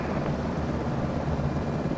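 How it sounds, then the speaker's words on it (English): A Coast Guard rescue helicopter at a plane crash fire scene gives a steady, loud low rotor and engine rumble that fills the whole stretch without letup, with no voices. "Just got dropped off by the rescue helicopter"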